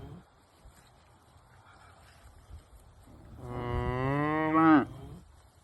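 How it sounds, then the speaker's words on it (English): A cow moos loudly and fairly close in a yard, one long drawn-out low call rising in the second half after quieter background sounds. "I went outside and there was cows in the yard. I'm sure Rob will post a little clip of it here."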